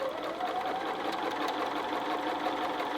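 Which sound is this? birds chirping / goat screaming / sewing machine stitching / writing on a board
sewing machine stitching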